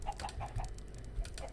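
Several blocky game ducks in Minecraft quack in quick, uneven bursts close by, a chattering run of short calls with no talking.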